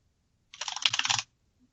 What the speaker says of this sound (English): In a flurry of keyboard clicks, he disappears